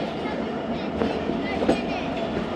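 Passenger train running past Raiwind Junction, a steady rumble and clatter of wheels on rails heard from on board, continuous and fairly loud, with faint voices mixed in.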